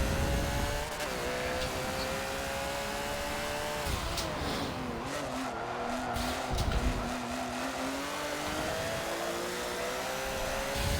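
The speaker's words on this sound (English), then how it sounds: "That's what, a Corvette and a Ferrari" Race cars, a Corvette and a Ferrari, roar past at Daytona during a WeatherTech race, engine notes rising and falling with shifting pitch as they go by, steady loud track noise throughout with brief tire squeal.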